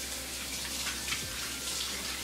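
Tap water running steadily while hands are washed in a kitchen sink after handling marinated chicken, a soft constant hiss and splash with no talking.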